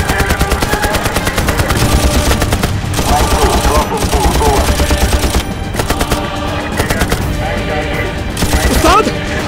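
Light machine gun fire in a film battle scene at a rocky mountain position, continuous rapid bursts, loud and close, with dense overlapping shots throughout.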